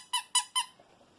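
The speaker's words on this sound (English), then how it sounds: "a purple middle with a squeaking thing sound" A toy squeaker sewn inside the purple piece of a fabric quiet book is squeezed three times in quick, even succession, giving bright, close, high-pitched squeaks followed by faint rustling.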